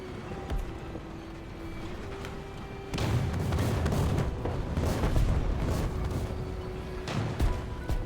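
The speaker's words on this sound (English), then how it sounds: "there's someone shooting at me." Gunfire aimed at the player's tank in the War Thunder video game, low tier realistic battles: a dense, rumbling barrage of booming shots that swells loudly around the third second and keeps pounding, with no talk over it.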